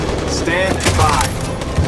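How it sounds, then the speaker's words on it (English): Machine gun fire in Detroit: Become Human: a dense, continuous barrage of shots under voices and a steady background roar across the whole stretch. "That machine gun is taking down everything that moves!"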